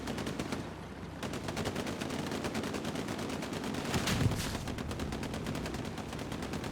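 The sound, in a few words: tank shots and rockets in Hell Let Loose video game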